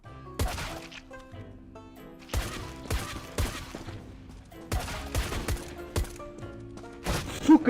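Rapid gunfire in the video game CS:GO, with bursts of shots and automatic fusillades repeating through the clip at close, loud volume, broken by short gaps.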